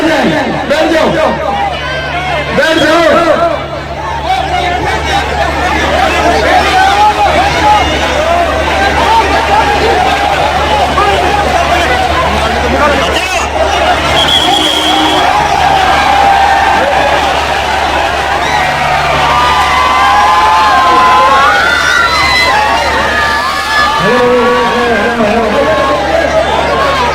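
Large unruly crowd at a Dussehra festival in Bhattu Mandi, a dense, loud hubbub of many voices and chatter filling the whole stretch, with a steady low hum beneath and occasional louder shouts rising from the throng.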